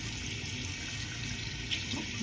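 Steady running water from a sink tap at a bathroom basin, a continuous close hiss that fills the whole stretch at an even level.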